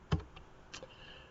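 Typing on a computer keyboard while entering into a CAD command window: a few quiet, close key clicks, one sharper tap followed by lighter scattered presses.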